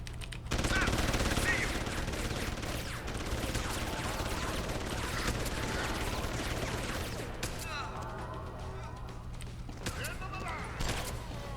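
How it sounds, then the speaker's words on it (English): Gunfire in Deus Ex: Human Revolution crackles in rapid bursts for several seconds amid game noise, thinning out toward the end, with speech-like sounds mixed underneath. "Two shots."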